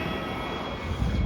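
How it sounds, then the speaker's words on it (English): A plane taking off with a passenger aboard, heard as a steady, loud engine roar with a broad rumble that swells slightly toward the end of this brief stretch. "there goes Dad's plane"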